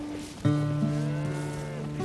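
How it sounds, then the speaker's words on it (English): A Canadian Lineback or Red Poll cow on a farm gives one long, loud, resonant moo that swells suddenly and holds to the end, close by. "Paul and Marnie raise endangered species of cattle along with their pigs."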